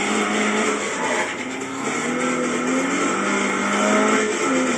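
Car engine in a racing video game held on the gas, a steady loud droning roar with rising pitch that fills the whole stretch with no breaks.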